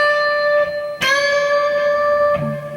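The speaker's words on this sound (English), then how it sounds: "You can bend this one up 2 frets, which means you're bending it up to here, which sounds like this." An electric guitar note is plucked and its string bent up two frets, the pitch rising smoothly and ringing with sustain, followed by a second softer attack near the end.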